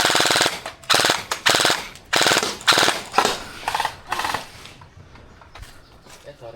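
Gel blaster guns rattle off loud, rapid full-auto bursts nearby during a skirmish game, several strings of shots with brief gaps, then fading to quieter scattered firing.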